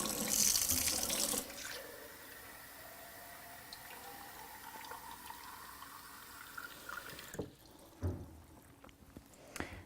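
Gravity-fed spring water runs steadily from a faucet into a sink, a continuous hissing splash with a louder gush at first and occasional clunks and handling sounds near the end.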